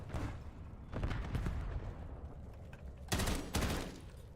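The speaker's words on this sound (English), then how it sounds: "Hostile cluster grenade." Cluster grenade explosions in Call of Duty Black Ops 7 go off as a dense barrage of booming blasts and rattling gunfire, with two sharp, loud bursts near the end.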